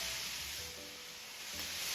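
Jaghool Baghool frying in a pan with salt to be added, a steady close hiss and crackle of sizzling that holds without pause.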